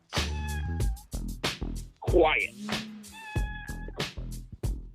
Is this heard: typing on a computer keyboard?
no